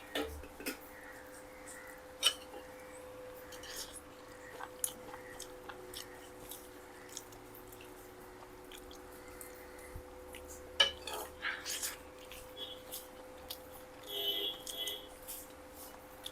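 People eat ridge gourd curry from a plate at lunch in Goa, with soft chewing and occasional clinks of cutlery and dishes scattered through the clip over a faint steady hum, and voices talking now and then.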